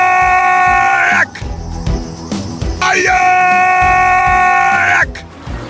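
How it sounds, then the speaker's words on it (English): An audio drama scream rings out as a long, loud, high wail, breaks off, then returns and holds for several seconds, with voices and commotion around it. "Did you hear that terrible scream again?"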